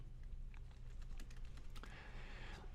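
Quick, light keystrokes patter on a computer keyboard as a marker name is typed, a close, quiet run of clicks over a faint hum.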